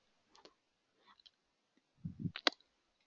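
Mouse clicks while choosing an option from a drop-down menu, a few faint isolated clicks followed by a quick cluster of sharper taps, close and quiet, with no talking.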